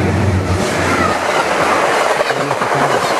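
A train rolls past on the tracks with a steady, loud rumble and rattle of wheels, and faint clicking and rhythmic knocks run through it the whole time.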